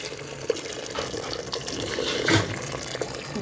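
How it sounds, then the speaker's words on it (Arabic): Boiling water poured from a pot into a pot of macaroni with tomato sauce and shrimp, a steady close splashing pour with small bubbling surges. "وغادي نضيفوا الماء مغلي"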